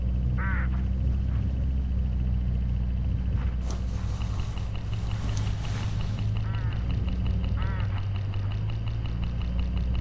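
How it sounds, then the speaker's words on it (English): Hooded crows call along a road in the game Hitchhiker, a few harsh, rasping caws rising over a steady low engine rumble, with a brief burst of broadband noise midway. "Look, hooded crows all along this road."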